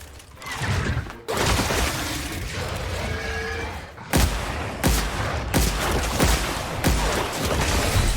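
Gunfire in The Outer Worlds, loud volleys of rapid shots in sustained bursts broken by several sharp cuts and fresh salvos, close and dense, with no talk.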